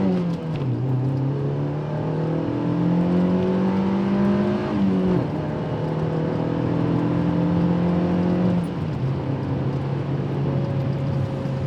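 A Mazda Miata MX-5 NC engine on the move, a loud close drone from inside the car whose pitch climbs through the gears with brief drops at each shift, steady and alone without talk.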